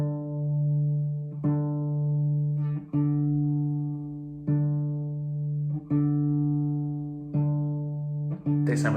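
A guitar is being tuned by comparing the fifth fret of the A string against the open D string, with plucked notes ringing out about every one and a half seconds, close and clear with sustained decays.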